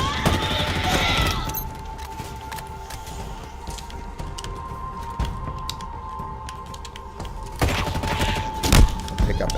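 Sniper rifle fire in Halo Infinite, a sharp loud shot at the start followed by quieter game ambience with a steady tone, then another burst of gunfire and a heavy boom near the end.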